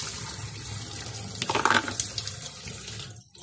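Water runs steadily from a tap into a sink while dishes are washed, a close continuous splash with a brief surge of clatter midway before the flow stops.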